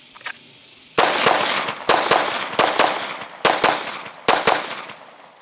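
Five loud, sharp gunshots from a CZ75 P-07 Duty pistol, fired singly and in quick pairs at an uneven pace, each crack followed by a short decaying echo outdoors.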